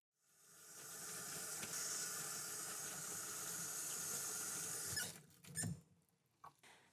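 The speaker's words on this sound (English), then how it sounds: "I'm going to go wash my hands." Water runs steadily from a tap into a sink during handwashing, a constant close hiss lasting about five seconds before the flow stops, followed by a few short wet splashes and squeaks.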